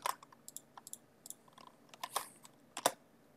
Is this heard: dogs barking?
no